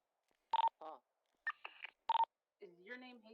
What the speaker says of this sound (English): Sorry, my phone went off and it spooked me.